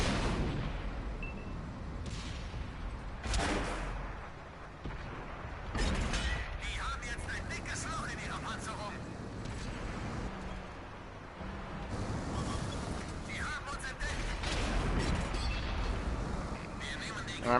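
Tank gun shots in World of Tanks on PS4, several sharp, heavy blasts spaced a few seconds apart amid rumbling engine and battle noise, with someone talking throughout.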